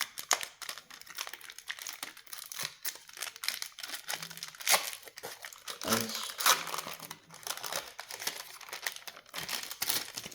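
Sealed plastic wrapping on an NBA card mystery box crinkles and tears as it is worked open, a dense, close crackling that runs throughout with uneven bursts of louder rustling.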